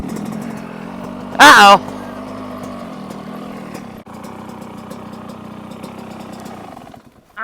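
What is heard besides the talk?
motorcycle engine during a third gear wheelie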